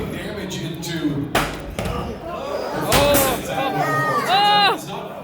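Combat robot Tail Spin slams into Performance Anxiety, an SSP kit bot, in an arena fight: a series of sharp metallic bangs and crashes with scraping and whirring between, under an excited announcer's commentary.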